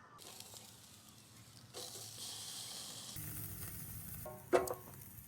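Food sizzles on a camping barbecue outdoors, a steady broadband hiss that swells and shifts as it cooks, ending with a brief sharp clatter or tap, moderately close with no speech.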